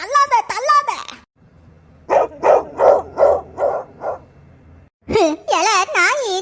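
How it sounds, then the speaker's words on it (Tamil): A cartoon dog gives a quick run of about six loud, evenly spaced barks, framed by high animated character voices talking before and after. "எல நாய் சவுண்டா விடுறா."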